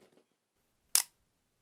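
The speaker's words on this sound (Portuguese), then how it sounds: "O obturador tem a capacidade de abrir e fechar-se numa pequena fração de segundo." A camera shutter fires once, giving a single crisp, close mechanical snap in a quiet room, with faint speech just before it.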